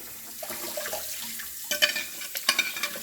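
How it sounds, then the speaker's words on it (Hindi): Running water from a tap filling a kitchen sink for watering houseplants, a steady splashing hiss with a few louder sloshes and clinks toward the end, heard close with no voices. "मैं सिंक में इस तरह से पानी भर के रख देती हूँ"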